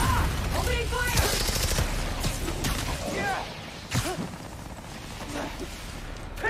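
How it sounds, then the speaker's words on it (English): Rapid bursts of enemy gunfire ring out in the PS5 game Marvel's Spider-Man: Miles Morales, with repeated shots and impacts over a constant bed of game noise and occasional voices. "Opening fire!"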